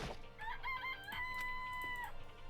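Chickens in the video game Danganronpa cluck and a rooster crows in a drawn-out call, faint and steady over a low background hum with no talk.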